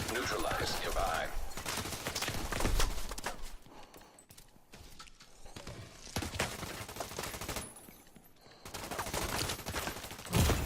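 Gunfire in the video game The Division 2, bursts of rapid shots and clattering impacts in irregular volleys, loud and dense, with quieter pauses between.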